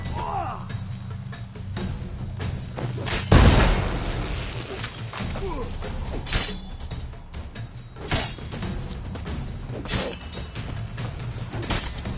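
A bomb explodes in The Witcher 3 with one loud, close boom and a crackling tail, followed by scattered smaller impacts and clatters over a low ambient bed.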